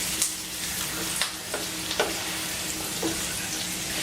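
An onion turning translucent fries in a pan, with a steady close sizzle broken by several sharp scrapes of a utensil stirring, and no voices.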